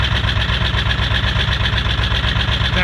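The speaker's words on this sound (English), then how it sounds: "the truck is going to idle real low for a while, and then it's going to idle up when it gets warm enough" A Ford 7.3 Powerstroke diesel truck idles low after a very cold start, its engine thrumming in a loud, steady, rapid pulse with no voices.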